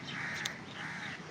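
Asian koel calling from mango trees in an outdoor orchard, a single clear rising call heard at middle distance over steady ambient background.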